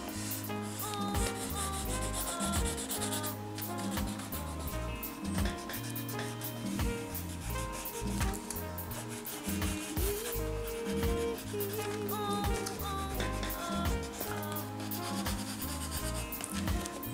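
A finger rubs pencil shading into Canson paper in a continuous soft scraping and rubbing, with quiet repeated strokes under steady background music and no talking.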